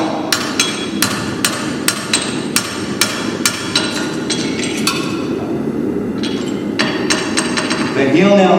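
Steady hammering as a farrier drives horseshoe nails through a shoe into a horse's hoof: sharp metallic strikes in quick regular bursts, close and loud, with short pauses between nails.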